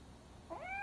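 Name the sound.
cat meowing in Robocop Rogue City video game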